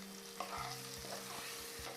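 Chopped potatoes sizzle and fry in a pan seasoned with turmeric while making sabudana khichdi, a steady low crackle with a few soft stirring scrapes and no talking.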